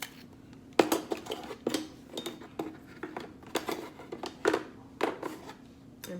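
A lid is handled and set onto a jar of homemade body butter, giving a series of sharp clicks and light taps spread across a few seconds, close and fairly clear with no talking.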